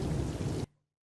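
Steady heavy rain pouring during the monsoon season, a loud dense hiss of falling water that cuts off abruptly after well under a second.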